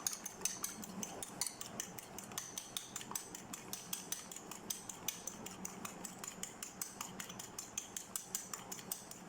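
Egg white for a homemade face mask whisked hard in a bowl, a fast steady train of sharp clicking and tapping strokes, close and loud throughout with no talking.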